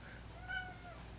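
A cat meows in a drawn-out, wavering call during a home check on an injured female cat, heard at moderate distance over a low steady hum.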